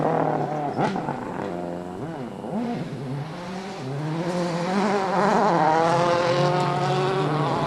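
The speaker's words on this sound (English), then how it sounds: "look out for the flat on his left rear tyre as he passes our camera here" A Ford rally car running on a flat left rear tyre at the 2008 WRC Rally of Turkey passes close by, its engine revving in rising and falling sweeps through gear changes and growing louder as it nears.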